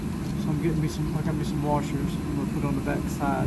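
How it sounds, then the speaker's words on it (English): A turbo heater runs inside a Winnebago RV motor home as a steady, loud whirring drone that continues throughout, with someone talking over it. "Okay, pardon the noise. I have to turn on my turbo heater."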